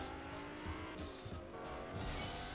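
Car engine and tire squeal from a Fortnite Creative race track, a steady roaring motor with recurring high skidding screeches as the vehicle corners, continuous and fairly loud with no talking.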